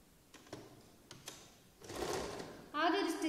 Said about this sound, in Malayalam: ആദ്യം ഒരു സ്റ്റിച്ച് സെന്ററിലൂടെ ഒന്ന് കൊടുക്കാം